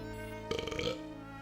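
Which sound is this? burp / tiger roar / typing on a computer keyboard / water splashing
burp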